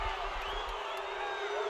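Home crowd at a high school football game between Ravenwood and Independence reacts to a fumble recovery: a sustained, distant roar of voices and cheering, with an announcer talking over it.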